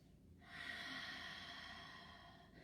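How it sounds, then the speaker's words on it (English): A single deep, slow breath during a yoga flow, heard close up as a soft, airy rush that swells and then fades. "Take a deep breath in and out."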